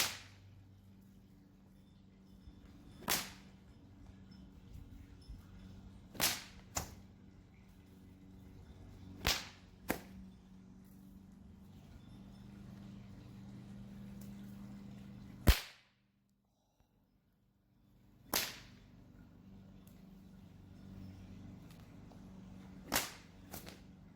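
Sharp whip cracks ring out one at a time at irregular intervals, about eight loud snaps over a low background hum, with a short stretch of near silence partway through.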